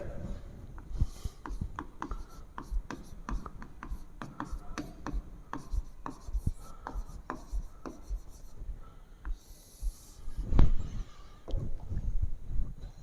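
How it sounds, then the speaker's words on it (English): Marker strokes on a whiteboard as a capacitor circuit diagram is drawn for a physics lesson on AC voltage, a steady run of short squeaky taps and rubs, close and moderately loud, with a heavier knock near the end. "First we draw the circuit diagram."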